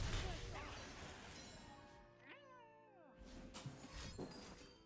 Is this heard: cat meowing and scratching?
yes